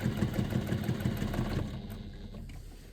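A sewing machine stitches along a faux leather overlay zipper pocket, its close, steady mechanical chatter running in quick rhythmic bursts before easing off partway through.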